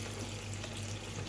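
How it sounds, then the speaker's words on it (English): Vinegar poured over a large piece of raw pork being washed, a steady continuous splashing liquid stream with low hum underneath, close and moderately loud. "So I'm pouring the vinegar"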